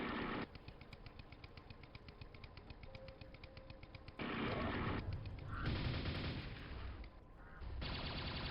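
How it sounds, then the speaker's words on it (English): A laser gun fires in the video game Quake, first as a rapid, even stream of buzzing shots, then heavier bursts and blasts. The shots are loud and close, with no talking. "Ooh, a laser gun."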